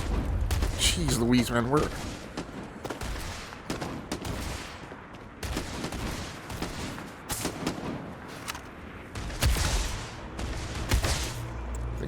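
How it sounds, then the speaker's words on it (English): Rapid gunfire and booming shots from Starfield, played on PC in a wooded area, crackle in repeated loud bursts through a tree line while someone talks over the action. "Shooting at these guys through the tree line"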